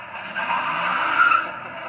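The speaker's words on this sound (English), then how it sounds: "Cars driving through the neighborhood or neighbors honking their horns or squealing tires." Car tires squeal on pavement in a neighborhood, a sustained, moderately loud skid that swells in the middle and then eases off, with no voices.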